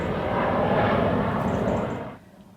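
An EasyJet airliner passing overhead near a caravan site outside Solihull, a loud broad engine roar that holds steady and then falls away, no talk.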